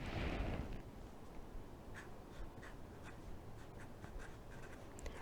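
Pencil or pen writing by hand on paper as an essay is copied out, soft continuous scratching with small rhythmic strokes, close and quiet.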